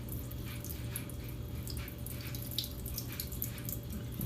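Water runs and trickles as soaked, swollen sunflower seeds are rinsed in a large jar, a faint, continuous pouring with small splashes and drips throughout.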